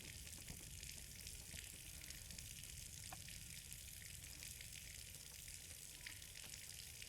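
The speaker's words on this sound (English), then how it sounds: "Hey, the basement's flooding." Water flooding a basement in the horror game Scarlet Hollow, a steady low rushing and sizzling wash that continues evenly throughout without any talk.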